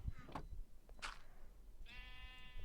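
Sheep in a video game bleat twice in quick succession, then a longer wavering bleat follows, fairly close over a faint low background.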